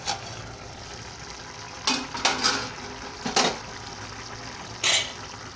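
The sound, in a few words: okra tamarind stew (bendakaya pulusu) boiling in a covered pot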